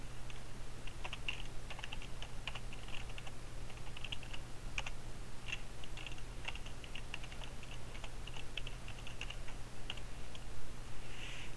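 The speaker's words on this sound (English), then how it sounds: "I'm going to need to type in the username and the password that is to this computer" Steady typing of a username and password on a computer keyboard, a quick run of light key clicks over a constant low electrical hum, no voices.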